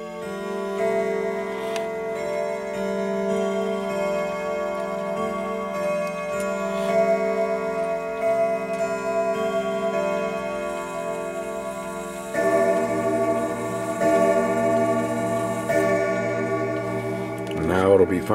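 A Seth Thomas golden oak grandfather clock ticking steadily, then a sustained chime melody with rich bell tones ringing out, growing fuller toward the end, while a voice talks quietly under it.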